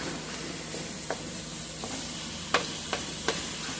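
Meat with Italian parsley sizzles in a stir fryer, a close, steady frying hiss broken by a few sharp scrapes and taps from stirring.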